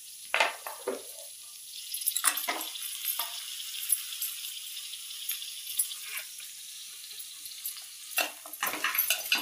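Ingredients are dry-roasted in a pan for a puja meal, with irregular scraping strokes of stirring and a faint sizzle between them, close and moderately quiet.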